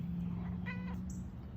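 A pet cat gives a single short meow, close but fairly soft, over a steady low hum.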